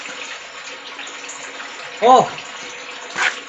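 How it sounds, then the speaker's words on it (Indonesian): Water runs steadily from a tap into a container, a continuous close gush. A brief voiced exclamation and a short clatter break in over it. "Kita isi dulu airnya"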